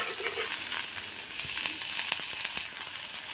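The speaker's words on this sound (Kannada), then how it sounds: "ಸ್ವಲ್ಪ ಬೆಳ್ಳುಳ್ಳಿನ ಹಾಕಿಬಿಟ್ಟು ಕ್ಲೀನಾಗಿ ನಾವು ಹುರ್ಕೋಬೇಕು. ಚೆನ್ನಾಗಿ ಹುರ್ಕೋಬೇಕು ಸ್ನೇಹಿತರೆ." Chopped onions and garlic sizzle steadily in a hot pan, a dense continuous frying hiss with small crackles and occasional stirring scrapes, close and alone.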